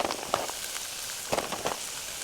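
Sausage topped with Italian-style six-cheese blend and shredded Parmesan sizzles steadily on a flat griddle, a dense, continuous frying hiss with scattered small pops and crackles, close and alone without talk.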